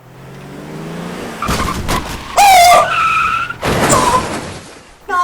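A car skids loudly with squealing tires as it runs someone over, a sharp screech that rises abruptly midway and then fades, with a second burst of rough tire noise following close by.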